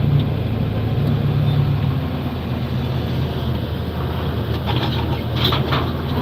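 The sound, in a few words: tractor with BKT tires driving in a field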